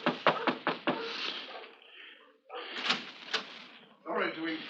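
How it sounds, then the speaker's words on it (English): A closet door shuts with a few close wooden knocks and a soft bump inside a quiet room, followed by a voice talking. "I'll just close the door after you."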